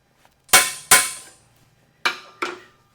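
A hammer drives a metal punch against an aluminum pot metal disc in four sharp, ringing strikes: two close together, a pause, then two more, each fading quickly.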